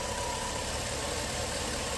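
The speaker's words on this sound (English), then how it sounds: "I've been letting this engine run for, I want to say, a good 20 minutes." Travel rig engine left running for an extended time, a loud, constant idling rumble with a gritty mechanical hum and no variation, close by and with no voices over it.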